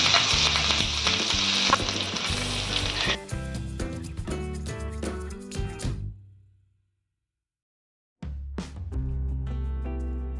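Cumin seeds and green chilli frying in hot oil for a grated corn stir fry, a loud, steady close sizzle with stirring that cuts off into silence midway, then resumes strongly.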